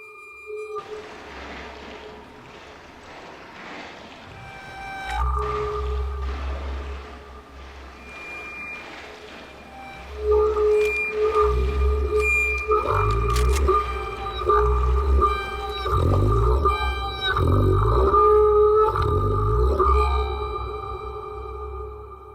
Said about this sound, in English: the Nightmare Machine, a musical instrument designed specifically for the creation of sinister and unsettling